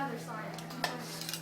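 Metal utensil scraping a cooked turducken off the bottom of a pot, a quiet run of clinks and scrapes with a couple of sharper knocks, close by in a kitchen.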